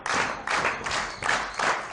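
Wrestling crowd at a CHIKARA Young Lions Cup show claps steadily in a broad wash, rallying behind a wrestler, with a faint thud mixed in.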